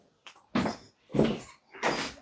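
A back kitchen door in a four-bedroom maisonette opening, heard as three separate close, loud bursts of creak and rattle with short quiet gaps between them.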